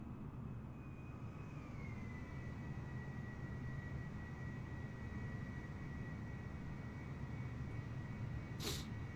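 A small Embraer Phenom jet in Microsoft Flight Simulator drones past as a faint, steady engine roar with a thin whine that dips slightly in pitch, fairly distant, with a brief sharp click near the end.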